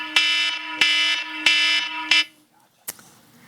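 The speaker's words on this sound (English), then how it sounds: "I think we got the volume turned up on that alarm pretty well" A fire alarm blares loudly in a hearing room, sounding four sharp, evenly spaced harsh buzzing tones before cutting out, followed by a brief knock.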